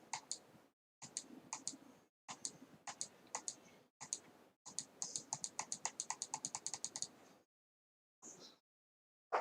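Rapid clicking of a computer mouse in quick bursts, close and crisp, with short pauses between runs of clicks.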